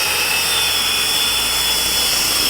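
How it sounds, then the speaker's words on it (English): A circular saw rides along a guide track through a large sheet, giving a steady, loud, continuous cutting whine that holds level throughout with no talking. "make the cut by aligning the grooves in the sled with the grooves on the track and push the saw through to"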